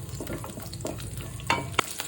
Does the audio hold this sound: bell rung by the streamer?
no